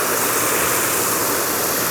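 A garden hose handle set to its shower mode sprays a soft, steady broad hiss of water over trays of microgreens, continuous and fairly loud with no voices.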